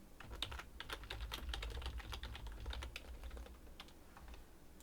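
Fingers tap out text on a computer keyboard in quick irregular bursts of close, crisp clicks, faint over a low background hum.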